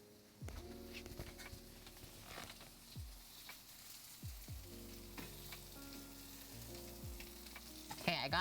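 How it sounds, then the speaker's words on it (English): Pork sizzling over a charcoal fire on an outdoor grill, a soft steady crackle and hiss with faint clinks and scattered background noise, heard fairly quietly without talk. "That pork is cooking up real nice, Sama. That's a nice fire you got there."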